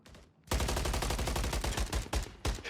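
Loud, dense gunfire and explosive bursts roar through a shooter video game match, a sustained barrage broken by a few sharp individual cracks, with a grenade going off amid the chaos.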